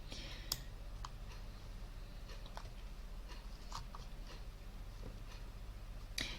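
Scattered computer mouse clicks, sparse sharp ticks at irregular intervals over a low steady background hum, faint and close.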